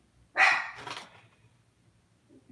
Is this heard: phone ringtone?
no